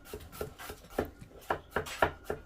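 A knife chops garlic on a board in a home kitchen, about a dozen quiet, fairly regular taps in uneven rhythm, close and alone without talk.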